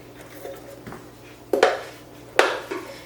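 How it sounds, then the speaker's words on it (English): Chopped apples tipped into a large bowl, two distinct clattering drops with a bright ringing impact after softer handling sounds, close and quiet between. "I'm going to go ahead and put this in a bowl."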